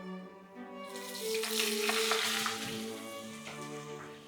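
Flour-coated onion slices sizzle in hot oil, a bright, steady crackle that swells about a second in and carries on close and fairly loud over a faint tonal hum.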